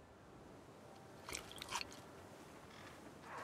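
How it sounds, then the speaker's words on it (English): A video-game character in Alan Wake 2 biting into a burger with an overly crunchy sound, two quick crisp crunches close up over quiet ambience, faint and brief. "That's too crunchy sounding for that. That burger should not be that crunchy."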